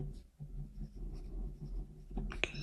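Pen scratching across paper while a math problem is written out, soft short strokes in an uneven rhythm, close and faint under a low room hum, with one sharper tap near the end.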